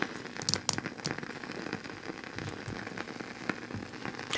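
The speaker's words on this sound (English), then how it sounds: "Sounds like a fire in a fireplace." Dense crackling and popping, like a fire burning in a fireplace, runs steadily throughout with scattered sharper snaps, close and moderately loud, with no voices.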